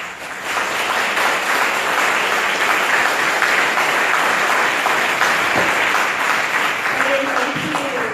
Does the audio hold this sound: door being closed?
no